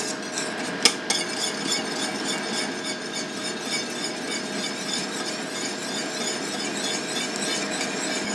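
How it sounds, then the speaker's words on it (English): A whisk scrapes and swishes around a pot of coconut cream pie filling in a continuous, even rhythm, close and moderately loud, with a couple of sharper clinks near the start. "I'm going to whisk that and let it cook."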